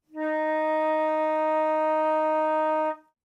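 A single sustained flute note, D sharp or E flat in the first octave, held steady and clear for nearly three seconds, alone and close with rich even overtones.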